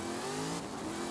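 Ultima Evo supercar fitted with thick drag tires launching hard in Forza Horizon 5, a loud, steady engine roar building with rising harmonic whine, briefly shifting pitch midway, close and alone without talk.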